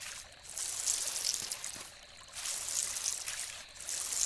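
Water being poured over crops in the farming video game Dinkum, a steady, soft, splashy trickle that rises and falls in short repeated bursts, and no talking.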